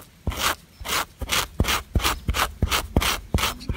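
A sharp stone flake scrapes hair off a deer hide in repeated rasping strokes, about ten rhythmic rubs each opening with a crisp tick, close and alone.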